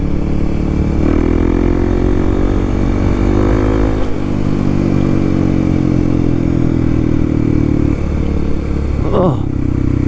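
Kawasaki KLX300 dual sport motorcycle engine on an autumn trail ride, loud and close, holding a steady pitch with gear shifts and rising revs amid wind noise.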